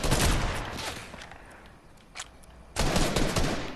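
Gunfire in Fortnite, dense bursts of rapid automatic shots at the start and again near the end, loud and close, with a quieter lull and a single shot between.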